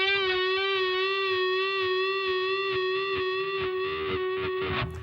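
Electric guitar holding a sustained note at the 11th fret of the G string, with a half-step bend, ringing clear and steady with slight vibrato for about five seconds, moderately quiet and alone, in a solo lick.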